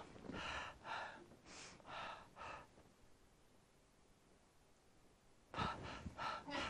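A voice imitates a newborn baby's irregular breathing: a run of quick gasping breaths, then a long quiet pause of several seconds, then another burst of sharp breaths, close and fairly soft.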